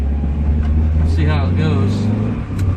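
Toyota AE86 with new coilovers and refreshed hubs pulling away, a loud close low engine drone that rises slightly, with someone speaking over it.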